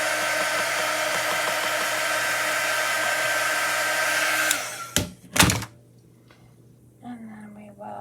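A heat dryer blows steadily on craft paint, a loud continuous whirring hiss that runs for several seconds before clicking off, followed by a couple of sharp handling knocks and a quiet room with soft sounds.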